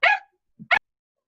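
A pet dog barks twice at home, a sharp loud bark followed after a pause by a soft low grunt and a second clipped bark, close and isolated against silence.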